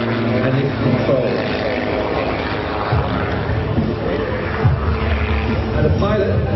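An aerobatic aircraft flying a freestyle display at the International Ayr Show, its engine droning steadily throughout under continuous commentary.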